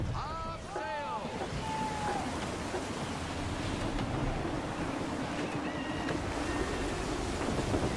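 Gusty wind rushes over open sea in the video game Assassin's Creed 3, a constant broad roar with surf beneath and brief creaking tones early on, while a voice speaks over it.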